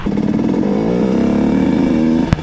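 A moped fitted with an 86cc Top Alu kit pulls away loudly and up close, its two-stroke engine revving steadily through a gear change, with a brief clatter near the end.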